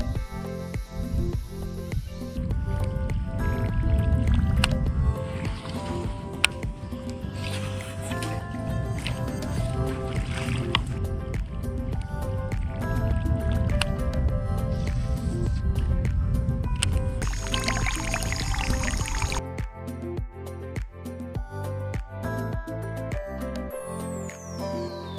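A Chasebaits Drunken Mullet prop bait fizzes and splashes through the water as it is retrieved, a continuous close, bubbling churn with brief quieter gaps and a few clicks near the end.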